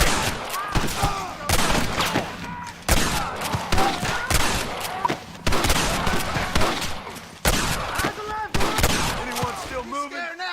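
A shootout in the Western video game Red Dead Redemption brings dense, loud bursts of rapid gunfire in repeated volleys, with shouted voices mixed in between the shots.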